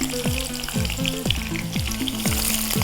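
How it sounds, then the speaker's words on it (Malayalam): Long-sliced onions frying in hot oil for biryani on a cookery show, a steady close sizzle with repeated stirring scrapes throughout, no voices. "നീളത്തിൽ അരിഞ്ഞു വെച്ചേക്കുന്ന ഉള്ളി നമ്മുടെ ഈ എണ്ണയിലോട്ട് ഇട്ടേച്ച്"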